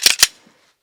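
Glock 17 Gen 6 pistol trigger: two sharp, crisp clicks in quick succession, very close and loud, followed by a faint small knock and then silence.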